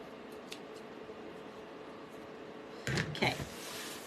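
Scissors snip through fabric while making a stuffed heart craft, two or three crisp close cuts in quick succession after a quiet stretch of soft handling noise.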